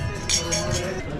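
Glasses of Alta Langa sparkling wine from Piemonte touch in a toast at a snowy ski resort, giving a few quick, bright clinks up close while voices murmur nearby.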